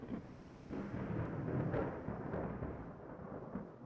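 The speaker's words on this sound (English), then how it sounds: "the stormy weather, the rough sea waves" Rumbling stormy weather at sea in the naval game Ultimate Admiral Dreadnoughts, with a steady low roar and a few heavier thunder-like swells rising and fading over a few seconds, no talking.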